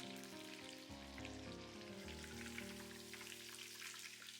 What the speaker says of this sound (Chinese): 第2次把豆腐下锅复炸一遍